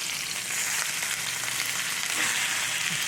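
New York strip steaks sear in a hot cast iron skillet, giving a loud, continuous sizzle that holds steady throughout with no talking.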